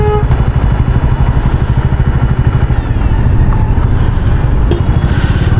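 A new 2022 Bajaj Dominar 400 motorcycle engine runs loud and close while riding, a steady rapid low thrum with constant pulsing and faint road noise behind it, no one speaking.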